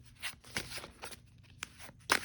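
Playing cards being shuffled by hand in a quiet room, a few soft riffling bursts spread across the moment, the last one loudest and crispest, with no talking.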